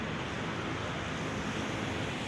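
Sea waves washing onto the winter shore at Alexandria, a steady broadband rush of surf, fairly close and unbroken throughout, with no voices.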